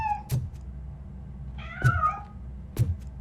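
Three short cat meows from RoboCop: Rogue City, spaced about a second apart, the middle one longer and more tonal, close and clear over a quiet background.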